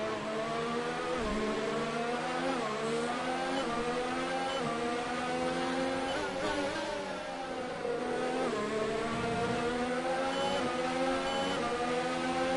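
Williams Formula 1 car in the F1 2019 racing game revving hard through the Canadian Grand Prix, engine pitch climbing and dropping repeatedly with quick upshifts, loud and continuous throughout.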